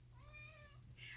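An orange cat gives a single soft, rising-and-falling meow, very faint and distant against low background hum.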